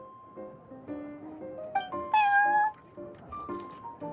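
Prince, a cat in Genshin Impact's Cat's Tail, meows repeatedly in short close calls, one rising louder and longer in the middle, over soft background music.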